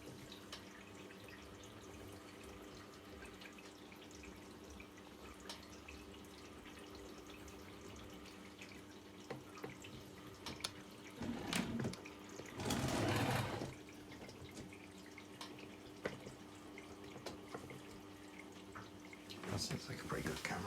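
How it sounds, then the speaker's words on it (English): An AEG Öko-Lavamat 610 electronic washing machine on a 75°C cottons maintenance wash fills with hot water straight from the supply, a steady close hiss of inflowing water with a louder gush partway through and brief clicks. "So it's currently filling with hot water directly from the supply"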